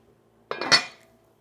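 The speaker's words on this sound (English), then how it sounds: "We're just going to put the lid on it." A metal lid is set onto a cooking pot with a single clear clank and a short ringing rattle that fades within half a second in a quiet kitchen.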